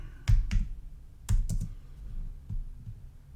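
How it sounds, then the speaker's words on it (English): A few sparse keystrokes on a computer keyboard while searching Google, scattered clicks in small bursts, close and moderately loud with no voices. "Just typing in Google"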